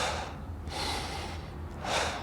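A person demonstrates shallow breathing driven by the neck muscles rather than the diaphragm, with close, audible airy inhales and exhales alternating in a slow rhythm.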